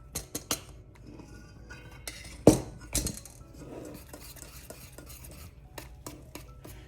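Spoon or spatula stirring banana bread batter with brown sugar in a bowl, soft scraping and a few sharp clinks against the bowl, close and unhurried with no talking.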